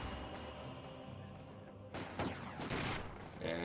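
In a video game battle, a sniper rifle shot cracks out as a sharp report amid a steady wash of distant gunfire and battle noise, followed by further loud impacts.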